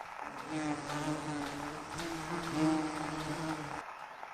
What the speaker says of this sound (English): I hear a buzz.